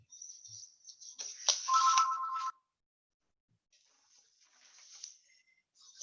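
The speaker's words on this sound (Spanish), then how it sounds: "Permítanme que voy a atender el teléfono." Telephone ringing during a lecture, a bright electronic ringtone in two bursts with a short silence between, fairly clear in a quiet room with no talk over it.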